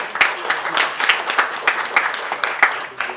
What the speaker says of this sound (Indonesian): Boleh beri aplaus yang luar biasa sekali lagi ya